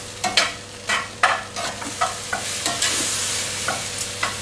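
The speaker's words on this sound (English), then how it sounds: "Move these around a bit so we can get the mushrooms around into that oil" Mushrooms sizzle in olive oil as they are moved around a pan, with a steady fry beneath a series of spaced scraping knocks from the stirring utensil, close and fairly loud, no talk.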